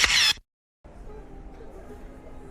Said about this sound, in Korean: 내가 찰칵 해줄게.